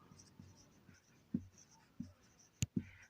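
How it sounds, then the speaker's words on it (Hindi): Pen or chalk writing out Hindi letters during a lesson, a handful of short, quiet scratching strokes separated by brief pauses, close and faint. "तो हम लोग लिखेंगे"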